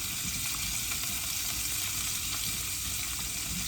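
Breakfast scrambler ingredients left to cook alone in a pan give a steady, even sizzle and fry, continuous and fairly soft with no talking over it.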